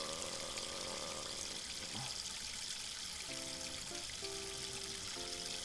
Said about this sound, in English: It's just running water